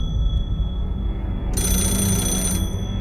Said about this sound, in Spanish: El teléfono negro anuncia que son las 3:30 en punto de la madrugada